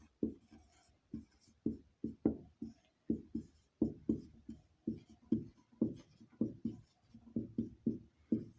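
Chalk tapping and scraping on a classroom board comes through as a steady series of short, dry strokes roughly every half second, fairly quiet and close, with no voice over it.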